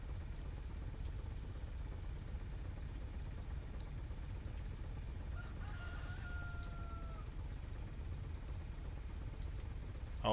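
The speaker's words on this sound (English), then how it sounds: "Oh, hush, Mr. Chicken." A rooster crows once in the middle distance, a short rising call with a few faint clucks, over a steady low engine-like rumble that runs throughout.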